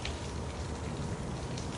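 Steady rain falling on a surface, a dense, even hiss of many drops, close and continuous with no voice over it.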